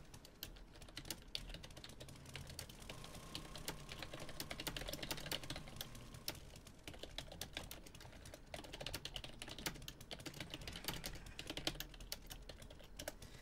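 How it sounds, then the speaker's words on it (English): Fingers tap steadily on a computer keyboard, a quiet, continuous clatter of quick keystrokes that runs throughout with no voices. "I got to type on the right keyboard."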